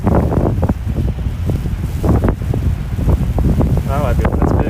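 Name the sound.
wind blowing on outdoor stream microphone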